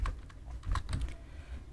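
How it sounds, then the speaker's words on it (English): Keys on a computer keyboard are pressed, Ctrl and backspace, in a short run of soft clicking taps, close and fairly quiet, with no speech. "Now let's erase this by using Ctrl and the backspace on the keyboard."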